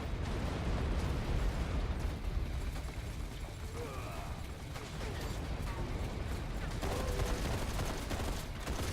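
Shotgun blasts in the video game Raiders of the Broken Planet, dense rapid bursts and booming reports over continuous mechanical combat noise.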